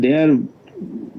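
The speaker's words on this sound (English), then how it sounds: "I see there are birds who come just almost they want to come inside my room" Pigeons or doves cooing close to a room, a steady harmonic coo in the first third, then quieter low murmuring sounds.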